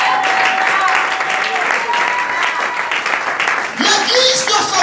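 Church congregation applauding in praise of the Lord during an evening service, dense sustained clapping throughout with voices and cheers mixed in, briefly dipping near the end before swelling again.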